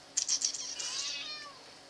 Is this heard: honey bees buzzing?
no